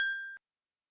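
A single bright notification bell ding, clean and short, ringing briefly and fading to silence.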